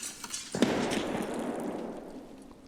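Grenade exploding in the game SPT, a sudden sharp blast with a rumbling tail that slowly fades, after a few faint clicks.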